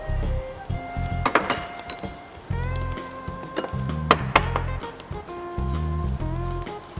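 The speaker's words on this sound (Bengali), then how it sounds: "পেঁয়াজটা খুব ভালো করে ভাজতে হবে।" Onions sizzle and crackle in hot oil in a pan while biryani is being cooked, with a spatula clinking against the pan in irregular stirring strokes.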